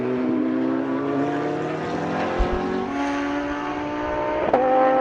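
A McLaren race car engine drones steadily at speed, its pitch shifting gradually as it runs at a circuit race meeting, loud and sustained with no talk over it.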